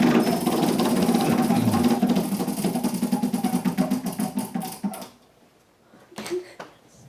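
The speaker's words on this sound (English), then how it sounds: "go ahead and spin the wheel" A game show prize wheel spins with a long run of rapid, steady clicking from its pointer, loud and continuous, gradually slowing and spacing out before stopping, followed by near silence and a brief faint noise.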